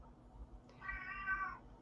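A pet cat named Mikhail lets out a single drawn-out meow, close and clear, rising and holding before fading, with no talking over it.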